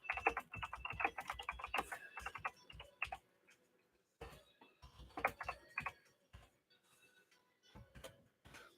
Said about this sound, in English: And then I'm going to type in, what did you have to eat?